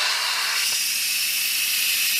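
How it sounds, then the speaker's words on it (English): A Cosori electric pressure cooker vents steam on release, a loud, steady, close hiss that holds unbroken throughout without any talk. "I'm going to release the pressure. I like to do it with the back of a wooden spoon just so I don't burn myself"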